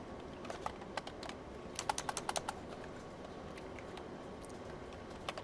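Quick clusters of keystrokes on a computer keyboard, close and fairly quiet, with a dense burst of rapid taps in the middle and scattered single clicks before and after, no voices.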